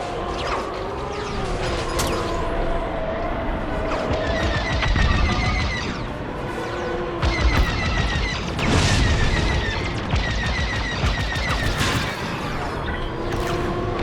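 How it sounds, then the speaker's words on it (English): Enemy blaster fire pounds a starfighter in Star Wars: Squadrons, with repeated bursts of impacts, crackling hits and mechanical creaks and groans around the ship, louder in a few clusters over a steady engine hum. "Taking enemy fire. Ship controls are down."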